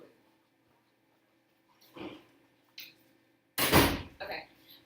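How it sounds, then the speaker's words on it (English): A door is shut in a quiet room, giving a short rustle followed by a louder thud and a brief rattle, all fairly close and isolated. "Let me shut this door real quick"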